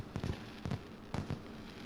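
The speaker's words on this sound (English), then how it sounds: "Looks like they are fireworks." Fireworks in the Danganronpa 2 video game, heard as three short bursts of crackling pops spaced roughly half a second apart, moderately faint and with no talking.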